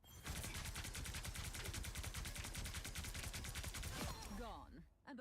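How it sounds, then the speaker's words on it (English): Emma Frost's primary fire attack in the hero shooter Marvel Rivals produces a loud, dense stream of rapid rhythmic pulses for about four seconds, then trails off into fainter, warbling effects. "let's check out that primary fire first"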